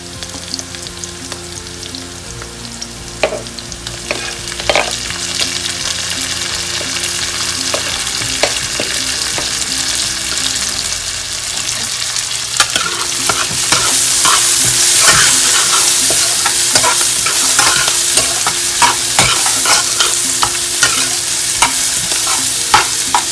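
Onions and garlic sautéing in a pan for a Caribbean red bean stew, with steady loud sizzling and frying. A spoon stirs and scrapes against the pan throughout, and the sizzle grows brighter partway through.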